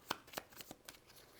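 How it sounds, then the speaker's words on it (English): Star Trek: Captains Chair board game cards being shuffled by hand, a quick series of soft riffling snaps, close and quiet, with no talking. "which means these get shuffled up."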